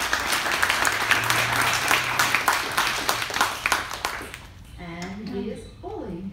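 An indoor audience breaks into steady applause to welcome panel speakers, dense clapping that fades after a few seconds, followed by a person starting to talk.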